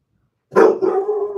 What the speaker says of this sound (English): And the dog just barked